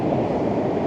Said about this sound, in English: the waves are still probably going to be lapping around where my tripod is now